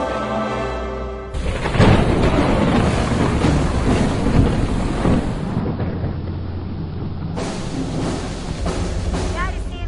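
Deep rumbling thunder rolls through a storm, loud and sustained with rain-like hiss, opening after a quieter start and continuing for several seconds.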